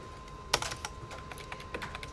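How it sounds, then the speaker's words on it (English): Quiet typing on a computer keyboard during a scripting class: a sharp first keystroke followed by a loose, uneven run of soft clicks. "As soon as I finish typing, I'll go back and say it again."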